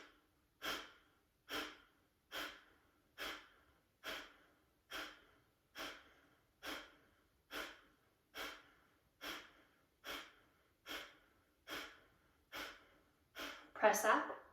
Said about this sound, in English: breathe in through your nose all the way, breathe out through your nose all the way